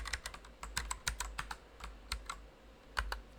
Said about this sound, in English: Let me just type it manually.